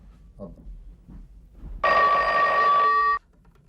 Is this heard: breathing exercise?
no